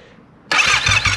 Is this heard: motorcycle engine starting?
yes